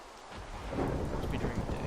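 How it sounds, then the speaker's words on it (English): A thunderstorm with heavy rain in Minecraft with the Better Than Wolves mod, a steady loud downpour hiss with a deep rumble of thunder swelling after the first moment. "That's a storm."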